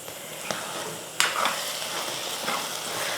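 Tomato pickle bubbling in separated oil on a stove, a soft steady sizzle with occasional pops and a couple of brief stirring clinks, fairly quiet and close.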